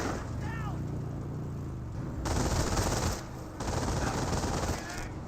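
MG42 machine gun fire in Company of Heroes, loud sustained bursts of rapid rattling shots with brief pauses between them, heard alongside other battle noise.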